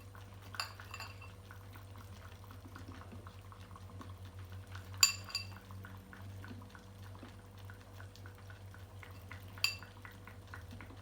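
Olives added to a simmering chicken and potato tajine, with a low steady bubbling and a few light clinks and knocks of utensils against the pot, quiet and close.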